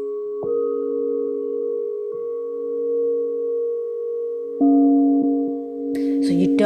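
Gently struck singing bowls at a sound healing workshop ring in long, steady overlapping tones, renewed by several soft strikes, with a brief rustle near the end.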